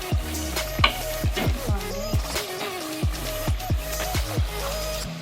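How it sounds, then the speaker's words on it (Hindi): Beef and cauliflower curry is stirred in a pot as it fries, with a repeated scraping of a spoon against metal at a steady rhythm over a soft sizzle, close and without talk. "अब इसको थोड़ी देर के लिए भूनेंगे"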